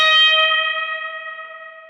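A single sustained electric guitar note with a slight bend at the 11th fret rings out with bright harmonics and echo in surf style, slowly fading, with no other sound.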